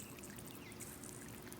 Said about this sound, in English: It's coming spraying out like a fountain, a water fountain display.